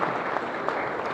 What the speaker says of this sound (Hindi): नौजवानों ने ताली बजा दी सबने